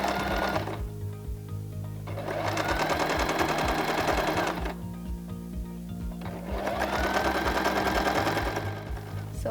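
A sewing machine straight stitches around a pillow, running in two long bursts of rapid rhythmic whirring with a short pause between, close and alone.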